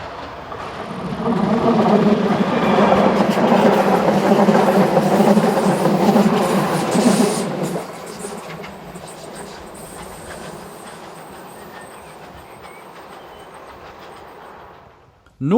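Class 4124-005 passenger train running north through Mühldorf station, a loud rumbling pass with wheel clatter that fades to a quieter roll, then near silence at the end.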